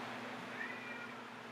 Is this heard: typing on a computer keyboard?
no